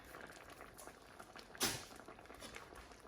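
A whole can of creamy coconut milk poured out for a rice dish gives a faint, hissing liquid wash, with one brief louder splash partway through.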